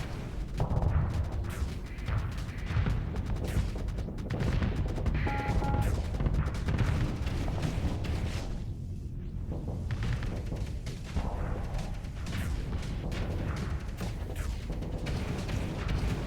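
Dense barrage of missile launches and weapon fire in the space combat game Starsector, a continuous roar of overlapping booms, explosions and crackling impacts, loud and unbroken throughout.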